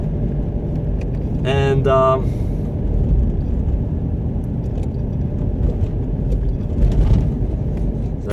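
A car cruising along a road at about 59 km/h, with a steady rumble of engine and tyre noise from inside the cabin throughout, a passing horn-like tone early on and a person speaking briefly.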